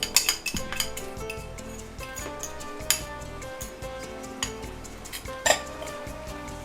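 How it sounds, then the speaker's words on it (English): Cooked potato is mashed and broken up with a fork in a bowl, giving repeated metallic clinks and scrapes of cutlery against the dish, close and fairly loud over faint background music. "Our potato. Being mashed and forked a little bit just to break it up"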